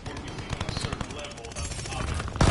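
Rapid gunfire from a PS4 shooter game, dense bursts of shots running throughout with a louder burst at the end, mixed with game sound and some voice.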